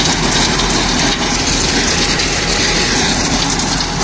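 Several tractors, a Deutz-Fahr 55 with a GS rotavator, a Farmtrac and a New Holland with rotavators attached, run together in a dusty field, making a loud, steady, dense engine and tilling roar with no pauses and no voices.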